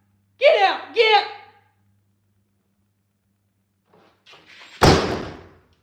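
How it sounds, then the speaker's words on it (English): A door slams shut hard with one loud, close bang after a pause, preceded by a person speaking and a few soft shuffling movements. "Sheesh, that door shuts hard."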